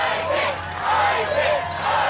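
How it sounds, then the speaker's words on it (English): A large arena crowd at the American Ninja Warrior national finals cheers and whoops in a sustained, loud roar that swells and dips in waves, with no voice standing out above the noise. "And you can feel the energy in this crowd."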